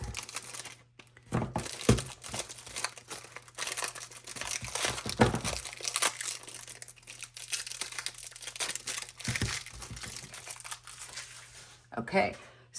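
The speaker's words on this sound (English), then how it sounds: "I just kind of cut up to the corners because sometimes this plastic just doesn't want to open up." Scissors snipping and crinkling through stiff plastic packaging at its corners, in irregular close crackling bursts with pauses, while a person talks throughout.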